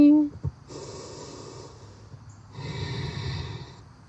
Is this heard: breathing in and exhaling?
yes